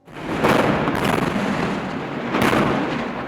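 Airstrikes over Gaza in an Israeli aerial assault: a continuous, loud wash of deep rumbling blasts, with a heavy swell near the start and another strong surge toward the end, no voices.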